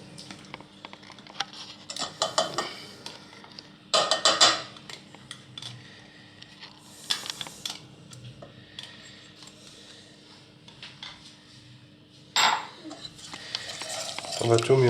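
A utensil stirs a vanilla and gelatine mixture for a fraisier in a bowl, giving intermittent scraping and clinking bursts with quieter gaps.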